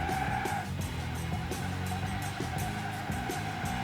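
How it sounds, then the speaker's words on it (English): A truck fitted with a supercar engine spins its wheels in low range, engine revving in rapid uneven pulses with steady loud rumble and tire scrabble throughout, no talking. "And then wheel spin"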